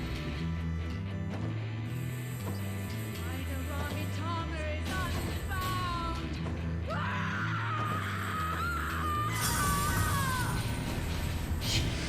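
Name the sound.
scream by a voice actress in Final Fantasy 14 video game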